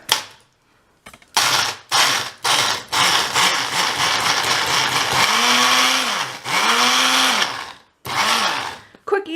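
A kitchen blender grinds graham crackers in bursts, loud whirring pulses starting and stopping, with a longer sustained run in the middle and the motor pitch rising and falling.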